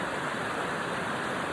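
Steady rushing water poured over a meditation session, a dense, even hiss with no breaks or voices for its full length.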